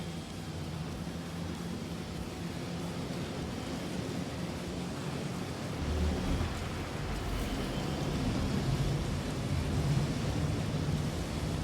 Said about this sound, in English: Well, I don't think this is just a normal storm.